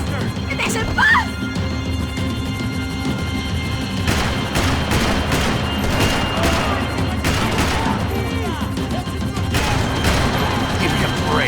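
Rapid gunfire in Max Payne 3, sharp bursts and crashing impacts popping repeatedly over a tense chase scene, with shouting voices and music running underneath throughout.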